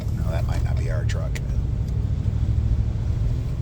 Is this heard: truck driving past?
yes